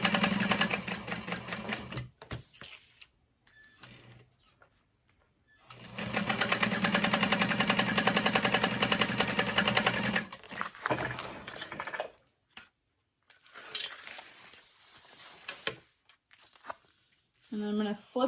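A sewing machine bastes a bag lining in bursts, running in a fast, even mechanical rattle for several seconds at a time with pauses and fabric handling between, while a person talks over it.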